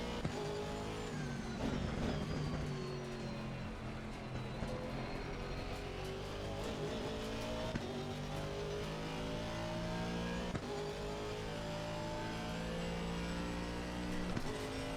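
A race car laps Brands Hatch in a racing video game, its engine note climbing and dropping steadily through gear changes, with occasional sharp shifts and a constant close roar and no talk.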